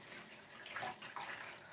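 Water runs steadily from a kitchen tap into the sink as kids' drink bottles are rinsed, a soft continuous splashing with brief louder gushes, no voices.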